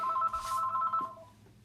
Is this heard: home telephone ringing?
yes